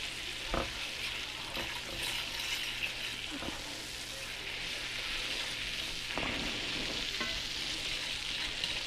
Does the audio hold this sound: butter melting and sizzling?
yes